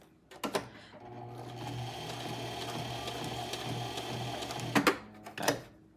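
A sewing machine stitches through paper for a junk journal, a steady close mechanical whirr running about four seconds, bracketed by clicks and handling taps before and after.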